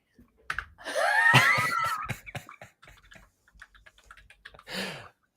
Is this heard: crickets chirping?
no